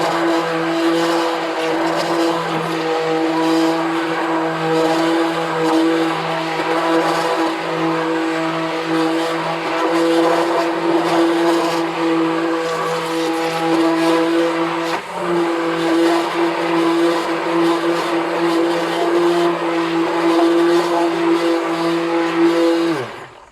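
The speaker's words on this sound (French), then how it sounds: "Donc, je mets mes cristaux de soude. Donc, vous voyez, ça devient un petit peu blanc. Donc, je vais mixer." Blender whirring steadily as it mixes homemade liquid laundry detergent with soda crystals, a loud continuous motor drone with strong harmonic hum that runs unbroken for the whole stretch, dipping briefly midway before carrying on.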